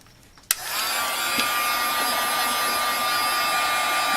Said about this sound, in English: heat gun